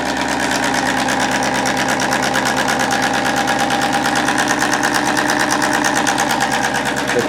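A Bedini magnetic motor prototype spins at roughly 350 to 500 rpm, giving a steady, loud, close mechanical whir with a rapid, even pulsing buzz that holds constant throughout, with no talking.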